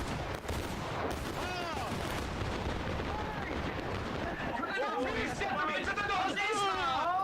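Massed gunfire from a group shooting at once in a dense, continuous barrage of bangs and booms, loud throughout, with excited voices shouting over the shots.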